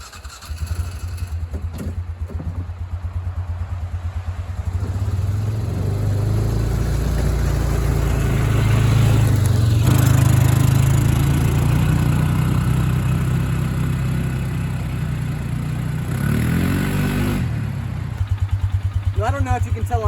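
A mid-size Polaris Ranger UTV hauling a load uphill at dusk, its engine droning steadily and swelling in the middle before easing off, with a voice heard briefly over it.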